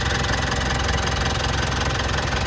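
A white 2016 Mitsubishi Pajero Sport Dakar 2.4 automatic idling with the bonnet open, giving a loud, close, even rumble with a steady rapid throb and no one talking.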